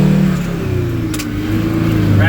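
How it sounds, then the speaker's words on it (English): A loaded dump truck's Detroit diesel engine revs steadily up toward peak RPM, a loud, continuous low drone with a rising tone near the end, heard alongside voices. "I rev it up right when I get to the peak RPMs"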